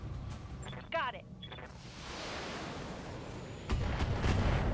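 Rocket fire in the BattleTech mech strategy game: a rushing, rumbling barrage that swells into a steady roar, with a heavier blast near the end. A brief voice sounds early on.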